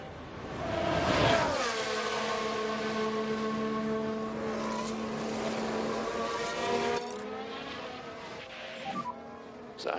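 Max Verstappen's Formula 1 car at Monza in F1 Manager 23 screams to the end of the straight, its high engine tone sweeping down as it brakes into the chicane, then rising again as it pulls away.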